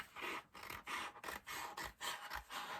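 Repeated rasping strokes of a blade trimming a wooden porch sign, close and steady, with short pauses between passes and no talking.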